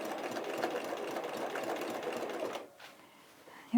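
A sewing machine stitches down the middle of a pressed-open seam on a Serendipity Star quilt block layered with puffy Quilter's Dream Puff batting, a steady close mechanical whir that stops near the end.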